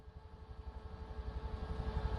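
A Bell UH-1 Huey helicopter in the MSFS 2024 simulator hovers as it taxis out to the runway, its rotor giving a steady, rhythmic low thumping over a faint turbine whine that swells slightly toward the end.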